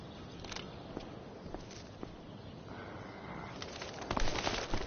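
In the video game Life is Strange: Before the Storm, a bird coos and flutters softly against an ambient outdoor backdrop, with faint scattered footstep-like taps and a louder burst of movement toward the end.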